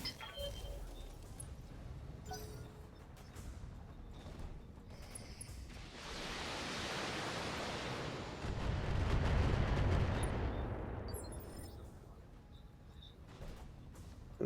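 Mechs firing weapons in the BattleTech game, heard as a long roaring barrage of blasts and rumbling impacts that swells in the middle and fades, with low booms underneath.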